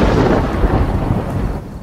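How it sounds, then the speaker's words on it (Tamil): A deep rolling rumble of thunder with a steady wash of heavy rain, loud and close, fading slightly toward the end, with no voices. "இடியுடன் கூடிய கடும் மழை பெய்து கொண்டிருந்தது"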